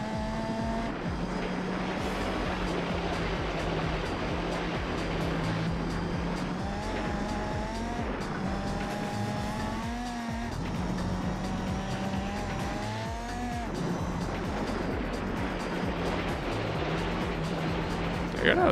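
Race car sliding over a dirt track in Gran Turismo 4, a steady engine drone with shifting pitch and loose gravel rumble running continuously throughout.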